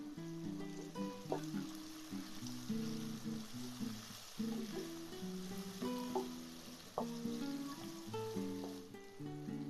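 Onion, tomato and curry leaves fry in a pan with a soft, continuous sizzle and hiss, partly masked by steady tonal sounds layered over it.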